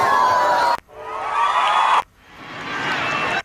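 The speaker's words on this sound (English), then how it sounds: "notice Capcut Mobile will preview the cheer sound effect" A cheer sound effect previewed in CapCut Mobile plays as three short bursts of crowd cheering and whooping, each cutting off abruptly before the next starts.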